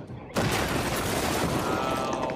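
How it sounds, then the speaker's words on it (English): A bomb explosion in a TV show, a sudden loud blast after a near-silent start, followed by a sustained roaring rumble of debris and fire. "They just dropped a bomb"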